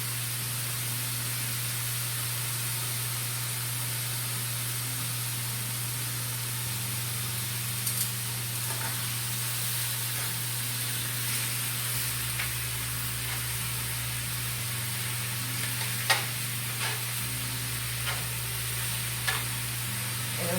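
Taco meat seasoned with salt, pepper and lime juice sizzles steadily in a pan, a continuous hiss with occasional soft pops and scrapes and no talking.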